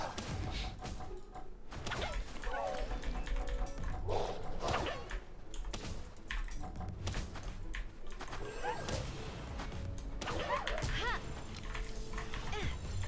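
Dire Howl, a wolf creature in the video game Palworld, gives repeated short barks and yips amid thuds and impact crashes of combat, loud and busy throughout.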